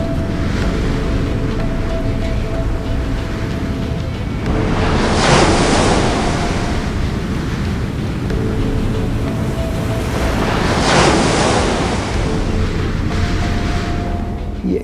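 Heavy sea surf for the parting of the Red Sea, a steady roar of wind and water swelling into two broad surges about six seconds apart, loud and close with no voices.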